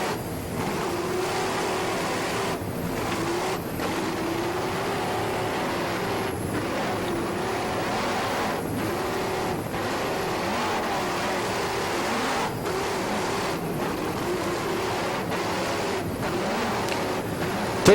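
An American Express offshore race boat from the 1989 season drones at speed, a loud continuous engine roar with steady rumble and faint rhythmic slaps, no voices.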